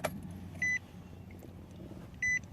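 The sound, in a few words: car ignition turned to the on position without starting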